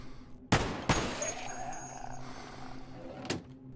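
Gunfire in the video game Cataclysm DDA: two sharp shots in quick succession, then a third after a pause of a couple of seconds, close and crisp over a low background hum.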